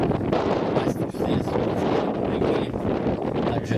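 Wind buffets a microphone outdoors at a car slalom event, loud, rumbling gusts that roll on unbroken across the whole stretch.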